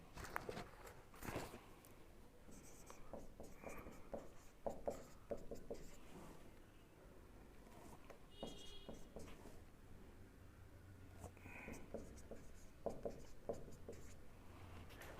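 Hand writing of maths equations, a pen scratching and tapping across paper in close, irregular strokes with brief pauses, steady and alone without speech.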